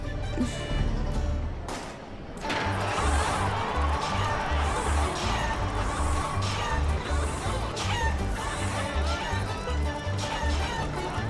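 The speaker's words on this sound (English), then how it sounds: "Run, you stupid chicken." A chicken clucks and squawks in the video game Yakuza 5 Remastered during a chicken race, heard over steady rhythmic game music and effects.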